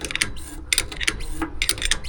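Fluid pump on a 1978 Kenworth K100 cabover truck sucking up fluid, giving a steady mechanical whirring with repeated rattling clicks in short bursts, close by and fairly loud.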